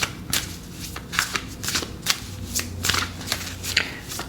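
Oracle cards riffled and shuffled by hand in repeated crisp bursts, close and fairly loud, with no one speaking.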